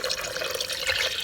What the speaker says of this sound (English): There's the water, and I'm pouring it in